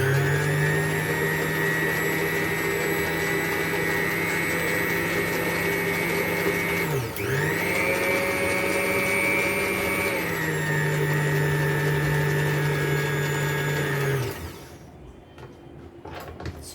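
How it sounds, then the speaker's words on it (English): An electric mixer beats an egg into activated yeast, a loud steady motor whine with one brief dip in pitch as the load shifts, then cutting off near the end. "I'll add my 1 egg and just give it a small beat."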